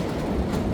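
Walt Disney World express train at Magic Kingdom, a steady loud rumble of rolling rail cars with faint clickety-clack, close and continuous for a brief moment.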